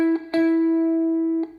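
A single guitar note, two frets up, is plucked, rings with clear harmonics, and is picked again near the end, with light string and pick noise.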